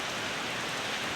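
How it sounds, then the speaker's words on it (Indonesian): Sudden heavy rain pours down in a steady, dense hiss, loud and continuous throughout with no voices. "Berapa menit tadi tiba-tiba turun hujan"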